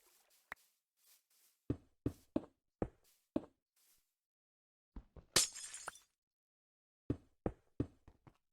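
Glass blocks are set down one after another while building in the Minecraft modpack Ragnamod VI: sharp, clinking taps in irregular clusters, with a brief shattering burst partway through.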